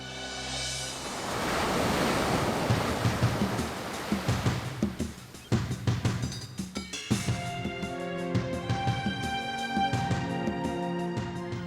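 Ocean waves and surf roll in continuously across a wide sea, a steady broad wash that swells and breaks; a soft musical score rises over the surf partway through.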